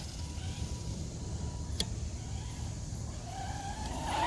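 A Traxxas Rustler 4X4 RC car driving outdoors, with a steady low motor drone, one sharp brief impact partway through as if landing from a jump, and a rising electric whine as it accelerates toward the end.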